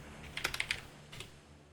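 A short run of crisp keystrokes on a computer keyboard, then a brief second flurry, soft and nearby over a quiet room hum during a live match stream.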